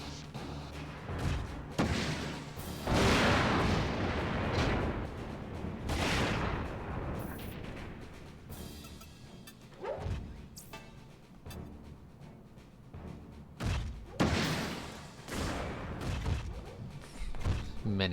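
Gunfire in the Front Mission 4 tactical mech video game, a run of loud bursts and thumping shots spread across the stretch, with quieter gaps between volleys.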